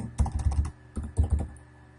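A heading is typed on a computer keyboard in two short runs of quick, fairly loud key taps with a brief gap between them, heard up close with no speech.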